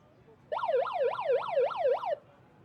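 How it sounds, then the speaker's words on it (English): A wailing electronic halftime siren at a rugby sevens match sounds for under two seconds, rising and falling in quick regular sweeps, then cuts off abruptly. "As we hear the halftime siren go."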